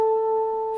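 A guitar sounds a single A note on the 5th fret of the first string, a clean, steady sustained tone ringing alone for under a second.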